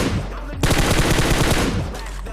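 Video-game gunfire: a close, rapid burst of automatic shots fires in a tight rhythmic string for over a second, then stops, with a gap of quieter ambience before the burst.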